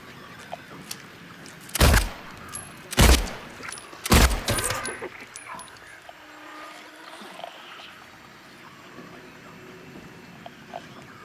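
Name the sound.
gunfire in the video game Silent Hill 2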